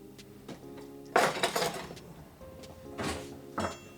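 Handling noises from grabbing a cutting board and a big knife in a home kitchen: a few hard wooden knocks and clattering bumps, close and fairly loud, scattered over several seconds with no talk.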